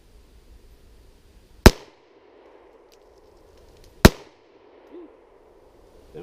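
Two loud, sharp handgun shots fired in double action ring out about two and a half seconds apart, each a crisp crack with a short decaying tail over otherwise quiet surroundings.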